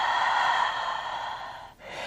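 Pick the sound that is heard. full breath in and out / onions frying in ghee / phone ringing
full breath in and out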